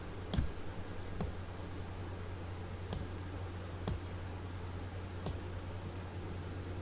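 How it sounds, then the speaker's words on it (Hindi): Mouse clicks while editing in Photoshop 7.0, five sharp, isolated clicks spaced about a second apart over a steady background hum, close to the microphone, with no voices. "यहाँ पे मैं क्लिक करता हूँ,"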